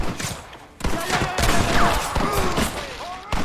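Rapid gunfire from a Gatling gun in the Western video game Red Dead Redemption, loud, close bursts of shots layered over shouting voices and game battle noise, continuing steadily through the moment.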